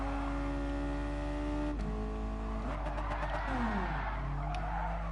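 A car in the racing game GT Sport drifting, with a steady engine drone giving way to a sharp tire squeal and skid as it slides, engine pitch falling and rising through the slide, loud and continuous.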